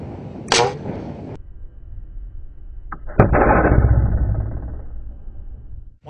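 A homemade compressed-air rocket launches with a sharp hiss and pop, followed by a sustained rushing whoosh of escaping air lasting a few seconds before cutting off, loud and close.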